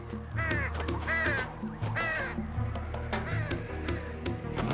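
Vultures in a Hindi-dubbed animated Simba film call in harsh, rising croaks, several repeated squawks close together over a busy background of music and effects.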